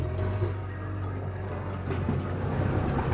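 A 250 horsepower outboard motor on a fishing boat at a dock rumbles steadily and loud, with a low droning hum and wind buffeting the microphone throughout.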